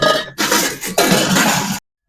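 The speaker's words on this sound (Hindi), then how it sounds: "अब भैया ये का स्थिति हुई, बर्तन कैसे मांजे लागे तू?" Pots and dishes being scrubbed and washed, with loud close clattering and scraping in bursts separated by short pauses, then silence.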